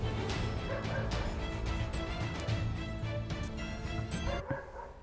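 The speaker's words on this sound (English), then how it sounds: "Man, that dog, it knows when I'm recording" A dog barks and yips repeatedly in a busy indoor room, its short calls mixed into the dense, steady sound of a mecha video game playing throughout.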